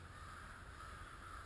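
Many crows caw in a continuous, agitated chorus, harassing a hawk or owl overhead; the calls sound distant and faint, with no talking.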